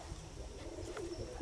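Pigeons fighting over territory give low, throaty coos and rough, grumbling calls at close range, faint and continuous over a brief moment outdoors.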